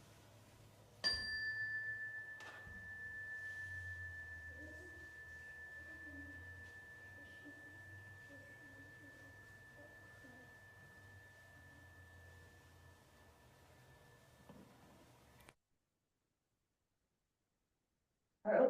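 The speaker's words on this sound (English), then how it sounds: "So we'll listen to the chime for one moment." A single chime rings out once at the start of a church service, a clear sustained tone that hangs and slowly fades over a quiet room hum for more than ten seconds before cutting off.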